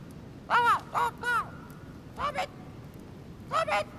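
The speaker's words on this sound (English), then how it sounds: "A mynah bird." A mynah bird in the game The Council gives a series of harsh, squawking calls in short clustered bursts, loud and close, with brief pauses between groups.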